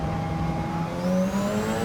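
A race car engine in Gran Turismo 7 drones steadily at high revs, its pitch climbing slightly partway through, loud and continuous with no talking.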